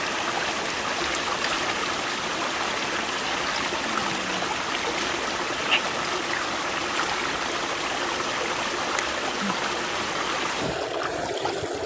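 A forest stream in the Petungkriyono natural forest rushes steadily and fairly close, with an even, unbroken wash of running water lasting the whole time.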